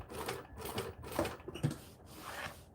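Domestic sewing machine stitching a few stitches through fabric while sewing a Vixen garment, a steady run of rapid mechanical clatter in short bursts with brief pauses, close and moderately loud.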